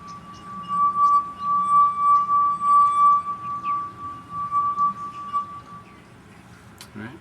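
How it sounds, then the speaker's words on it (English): A crystal wine glass rubbed around its rim rings with a steady, pure sustained tone that swells and holds for several seconds before fading, alone without talk. "so that's just a wine glass, but it's got to be crystal, so it has that ring."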